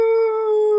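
A dog lets out a single sustained howl at a steady pitch, loud and close, holding without a break.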